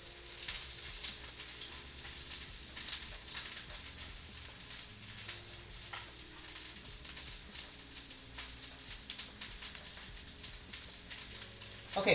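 Salmon fries in a pan with a steady, close, hissing sizzle and crackle that runs continuously, with faint stirring or shifting underneath.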